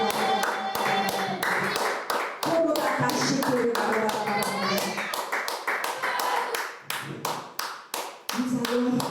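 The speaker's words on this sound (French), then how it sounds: "Est-ce qu'on peut acclamer pour le Saint-Esprit?" A church congregation applauds for the Holy Spirit during a prayer service for the nation, with dense, sustained clapping and voices cheering throughout. The clapping thins briefly in spots before swelling again.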